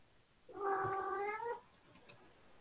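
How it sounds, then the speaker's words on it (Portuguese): A single cat gives one drawn-out, wailing meow of about a second, close and fairly clear against quiet room noise, with a couple of faint clicks afterward. "Ouça um gato."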